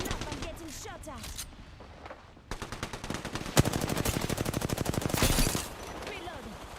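Rapid automatic gunfire in a video game battle with a player under fire, starting with scattered shots and building into a dense, loud, rhythmic burst of rounds, with voices talking over it.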